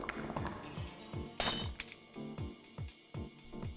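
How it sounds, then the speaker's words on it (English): Glassy shattering burst as the Guardian crystal breaks in the Ecco the Dolphin PS1 demake, a bright crash over a steady rhythmic game music bed with a few tinkling fragments after. "The Guardian shatters."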